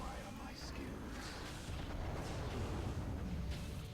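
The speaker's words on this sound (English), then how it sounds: "That's a big cannon." Heavy anti-air cannon fire in the StarCraft 2 video game, a dense continuous rumble of booming blasts that stays loud and steady throughout, with no clear breaks between shots.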